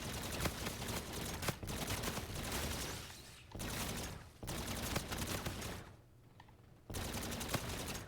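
Rapid automatic gunfire in a zombies-mode shooter game, loud sustained bursts broken by two brief pauses, with sharp individual reports spiking through the stream.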